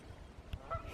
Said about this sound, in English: There's a goose out there yelling at us.